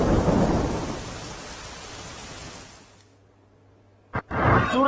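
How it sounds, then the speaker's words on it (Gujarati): Heavy continuous rain falling over Surat district, a dense loud downpour with rumbling thunder that fades out, then a sharp burst and renewed rain at the end. "સુરત જિલ્લામાં વહેલી સવારથી જ અવિરત વરસાદ વરસી રહ્યો છે"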